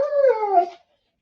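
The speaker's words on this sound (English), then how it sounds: "That's my puppy." A puppy gives one close, fairly loud whimpering howl that slides down in pitch over less than a second and then stops, leaving silence.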